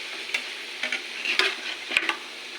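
Pork afritada frying in a pan is stirred, a steady soft sizzle broken by several scraping strokes of the utensil, close and alone.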